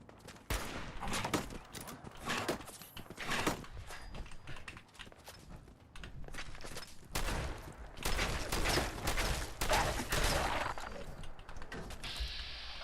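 Rapid bursts of gunfire in a Fallout 4 firefight, with repeated sharp shots and clustered volleys that come at irregular intervals and stay loud throughout.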